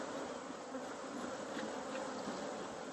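Honey bees buzz around hives in Tennessee in October, a dense, close, continuous drone of many wings at steady loudness.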